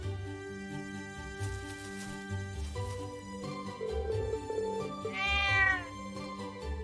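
Lulu the cat meowing in the video game Trails of Cold Steel, a single drawn-out meow rising over steady background game music, fairly clear and mid-distance.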